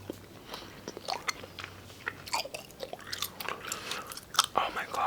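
Wet, sticky chewing of a large wad of twenty pieces of gum, close-up ASMR style, with irregular smacks and clicks over a low background hum.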